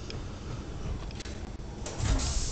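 A sci-fi carrier's bay door slides open in a video game, a soft mechanical whoosh with faint clicks that swells into a louder rumbling surge near the end.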